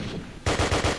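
Automatic Sturmgewehr 44 fire in a video game: a quiet lead-in, then a loud close burst of rapid, evenly spaced shots, about five rounds in under half a second.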